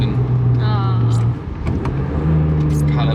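A BMW E36 M3 Evo engine pulls hard on the Nurburgring, a steady, loud, close drone that swells slightly toward the end, heard from inside the car with a person talking over it.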